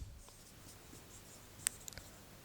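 Faint scratchy pen or chalk strokes writing on a board during a classroom grammar lesson, a few light taps and short scrapes over quiet room hum, with no speech.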